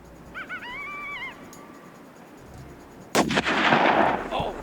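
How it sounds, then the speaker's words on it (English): A single loud rifle shot at a predator about 275 yards away cracks out sharply and rolls into a long booming echo, following a few faint predator calls. "I'm gonna go ahead and take a shot"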